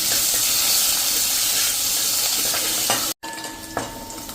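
Finely chopped medium onion sautés with curry leaves in a pan, a loud continuous sizzle and hiss with occasional stirring scrapes, briefly cut off near the end.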